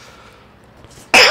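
A single sudden cough bursts out loud and close at the end, after a second of near-quiet background hiss.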